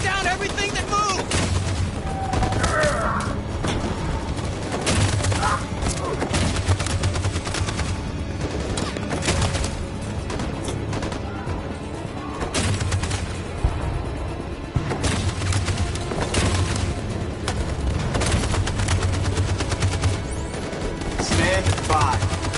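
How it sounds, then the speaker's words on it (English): Machine gun fire in the video game Detroit: Become Human, dense and continuous bursts of loud shots with scattered impacts throughout. "That machine gun is taking down everything that moves!"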